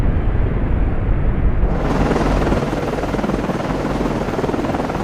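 A naval aircraft launches from a ship in Cold Waters with a loud, steady rotor-like roar that swells to a broad rushing rumble and carries on without pause.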